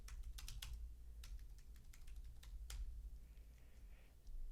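Rapid, quiet tapping of keys on a computer keyboard, irregular bursts of clicks over a low steady background hum, with no voices.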